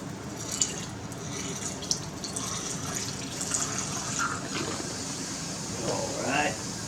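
Liquid is poured off during gold refining of 14k gold, a steady trickling and dripping into a container, with a voice talking over it.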